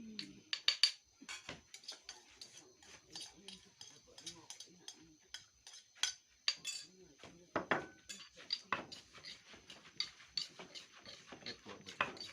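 Papaya salad pounded in a mortar, a steady run of sharp knocks and clinks with uneven rhythm, close and fairly quiet, while people talk softly in the background.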